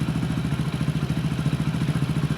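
Motorcycle engine idling steadily right after its carburettor adjustment screw is tightened, a close, loud, even rhythmic chug with a clattering pulse running without pause.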